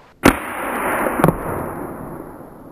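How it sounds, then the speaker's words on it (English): A Ranchero arrow pistol fires both barrels at once, giving a sharp close snap followed by a second crack about a second later, with a hissing, rustling tail fading out afterward. "let's shoot both barrels at the same time"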